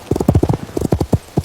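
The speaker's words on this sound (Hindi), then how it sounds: "अगले दिन वो एक सुनसान से रास्ते पर आहिस्ता आहिस्ता अपने घोड़े के साथ चल रही थी।" A horse walks slowly along a quiet deserted road, its hooves clip-clopping in quick close pairs, loud and clear with no voices over it.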